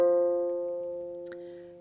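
A lone harp F string tuned to plain F natural is plucked once and left to ring, a clear sustained tone fading gradually with a brief small noise partway through.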